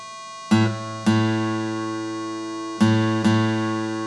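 Reference pitch for the guitar's A string, played as a sustained tone with four struck onsets spaced irregularly, each ringing on with rich even harmonics, close and fairly loud with no talking.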